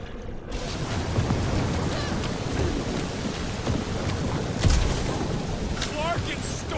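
Stormy wind and rain with rumbling thunder in the Guardians of the Galaxy video game, a dense continuous roar with a sharper thunder swell midway and faint higher squeaks on top.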